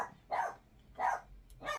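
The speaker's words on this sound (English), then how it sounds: "I just paused because our dog started barking" A pet dog barks three times in an evenly spaced series, sharp and fairly close, with quiet room tone between the barks and no talking.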